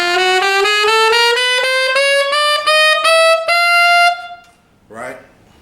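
Tenor saxophone with the high F sharp key held sounds a sustained, bright altissimo note whose pitch bends gradually upward with slight pulsing, loud and close, followed by a short spoken word.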